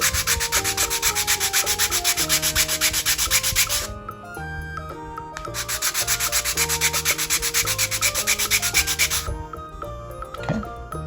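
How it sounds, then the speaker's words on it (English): Sandpaper rubbing across a stack of model rocket fins held together on a bench, loud close rapid back-and-forth scraping in two long bursts separated by a short pause, with some light clattering toward the end. "Then I'm going to take my sandpaper and just sand them all together."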